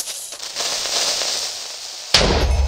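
In the Minecraft video game, a steady hissing bed of noise is cut by a sudden, loud, booming explosion near the end.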